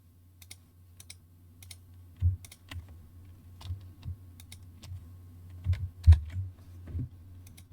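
Typing on a computer keyboard sounds as scattered, light clicking keystrokes in uneven bursts over a low steady hum, close and fairly quiet.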